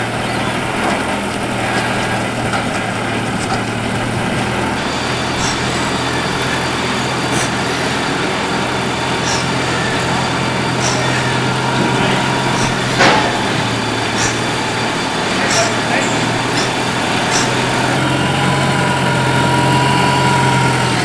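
A vehicle engine runs steadily throughout, a continuous low idling rumble with some vibration and rattle as the vehicle moves off, heard up close with no talk.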